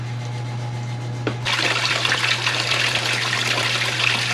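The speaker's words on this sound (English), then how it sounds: "So I ran a hose up into the back there and turned it on" Water from a garden hose gushes into the rear brake area of an '86 Ford diesel Ranger 4x4, starting abruptly after a faint knock and then running as a steady, close hiss and splash.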